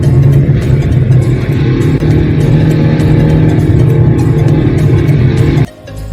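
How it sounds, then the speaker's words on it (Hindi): A car grinds up a steep mountain road toward an observatory in Ladakh in first gear, its engine straining loudly and evenly for several seconds before the sound drops off abruptly near the end. "नीचे से जो पहला गियर मारा है, पहले गियर पे ही गाड़ी चढ़े जा रही है।"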